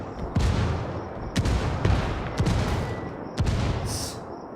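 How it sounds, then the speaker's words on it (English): In a video game, mortar shells fire and land in a string of heavy, booming thuds, about five impacts at uneven intervals over continuous background battle noise. "Mortar's going in, dropping on Waterloo."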